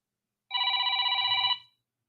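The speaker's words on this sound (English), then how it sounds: "I'm still trying to figure out why my phone is ringing differently recently" A telephone rings once in a single electronic burst of about one second, loud and close, with no talk over it.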